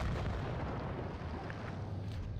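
Tank cannon fire in World of Tanks Blitz, with a T95E6 heavy firing HEAT shells in a tier X battle: a loud, sustained boom with rumbling low end and no voices.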